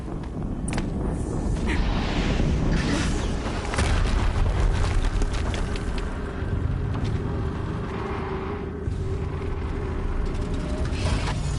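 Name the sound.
explosion in Horizon Zero Dawn video game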